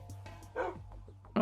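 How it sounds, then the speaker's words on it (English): A puppy in Minecraft giving a few short yips and whimpering barks, close and fairly soft, in quick succession with a louder burst at the very end. "Hello, little puppy."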